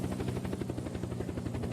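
A helicopter flies in the video game Unturned: a steady, rapid rotor thumping with a low engine drone, even and continuous throughout.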